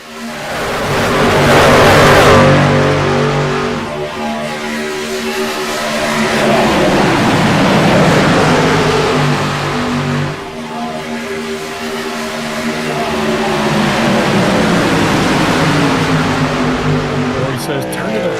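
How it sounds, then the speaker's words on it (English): In-cab engine drone from an iRacing truck in a video game at Daytona, loud and continuous with shifting harmonic bands as revs rise and fall over about eighteen seconds. "let you hear the sounds, sights and sounds of what these drivers are experiencing inside the cabs of these trucks"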